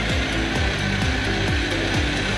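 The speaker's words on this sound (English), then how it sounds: "Let's keep on mixing." Cookies and cream popsicle mixture being blended with a motorised mixer, a loud continuous whirring drone with repeated dipping pitch sweeps as the load shifts, steady throughout with no voices.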